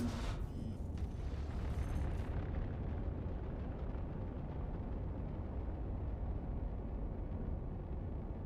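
A torpedo from Perseus torps explodes in a space combat video game, a loud burst at the very start that rolls into a long, dense rumbling roar continuing for several seconds with no talk.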